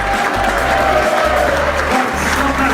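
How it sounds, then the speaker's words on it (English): An audience in a speaking event hall claps and cheers together, a dense, loud, continuous wash of applause and crowd noise with no pauses. "Keep clapping and cheer!"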